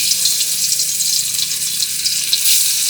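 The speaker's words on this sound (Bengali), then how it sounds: "একে একে মাছগুলো ছেড়ে দেবো।" Fish sizzles and fries in hot oil in a home kitchen, a steady, dense crackling hiss that holds close and loud throughout with no talk.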